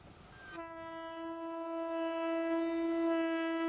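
A locomotive horn blares a long, loud sustained tone as a train passes near a railway track, holding steady and swelling slightly with the rumble of the rolling train beneath.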